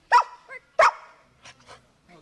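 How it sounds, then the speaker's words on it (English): A family protection dog from a third-generation bloodline gives two sharp, loud barks, followed by a few softer, higher yips spaced out over the next second or so, with a thin, puppyish quality. "Let's hear that bark one more time."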